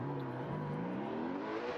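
A Ford Mustang and a BMW drift car launch together at a competition race start, their engines a steady, fairly distant roar with a slowly rising pitch as they accelerate away.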